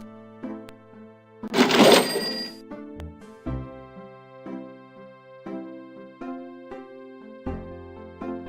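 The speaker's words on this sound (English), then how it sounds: "Gabriel opens the cash register to examine the take." A cash register in the Gabriel Knight: Sins of the Fathers game at St. George Books rings and its drawer clatters open, followed by a run of soft repeated game tones and clicks, with no voices.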